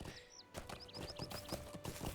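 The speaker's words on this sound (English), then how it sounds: "And we can once again ride our horse." Horse hooves clip-clop in a quick, steady rhythm on a ridden horse in the video game Lord of the Rings Online, with a brief whinny and bright game chimes over a soft background.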